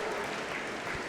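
An evening show-jumping crowd at a 1.45m class cheers and claps steadily after a top-scoring round, with a dense wash of applause and no voices standing out.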